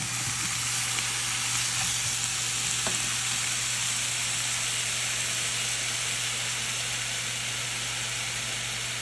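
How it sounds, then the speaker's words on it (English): Olive oil sizzling as it heats in a pan, a steady, even hiss of frying carrying through the whole stretch with a low hum beneath and no talking. "we're going to start by heating up the olive oil"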